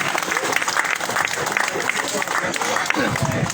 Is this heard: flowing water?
no